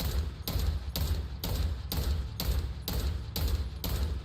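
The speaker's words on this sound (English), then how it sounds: "That's a sniper rifle?" Heavy sniper rifle fire in Borderlands 4, booming like artillery: about nine loud, evenly spaced blasts roughly half a second apart, each a broadband crack with a deep low rumble, closely spaced and continuous with no talking.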